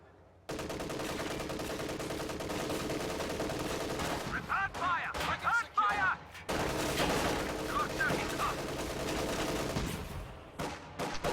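A video game battle with Volksgrenadiers, a Kübelwagen and a field gun firing. Dense gunfire crackles and rattles almost continuously, with bursts of machine-gun fire and heavier shots breaking through the din.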